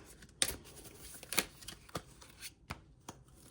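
Tarot deck being shuffled, several crisp riffling bursts of cards followed by softer taps and slaps, close and quiet in a still room with no voices.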